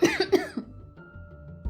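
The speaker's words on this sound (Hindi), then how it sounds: "बहुत जोर से खांसी आई" A cartoon woman coughs hard: two or three quick, harsh, voiced coughs up close, then a quiet room tone.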